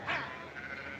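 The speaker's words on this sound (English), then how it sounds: "Adam, help me get those sheep on the move." Sheep bleating together as a flock is driven outdoors, one loud near bleat up front, then overlapping calls.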